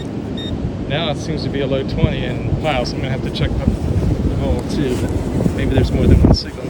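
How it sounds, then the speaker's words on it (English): Gusty wind buffets a microphone outdoors on a Florida beach during a hurricane, a steady rushing roar throughout that swells louder near the end, while someone talks over it. "Gosh, the wind blowing everything around again."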